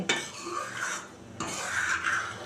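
Hand-washing of household pots, plates and utensils, heard as close clattering, scrubbing and clinking of metal cutlery and dishware in two uneven bursts, with no voices.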